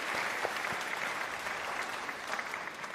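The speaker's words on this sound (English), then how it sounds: "Under your applause, Delphine, we salute you." Audience applause fills a conference session hall, steady dense clapping from a seated crowd held at an even level throughout, with no talk over it.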